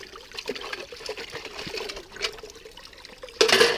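Water trickling and splashing as gold is washed off in a pan, a steady light flow that ends in a louder gushing rush.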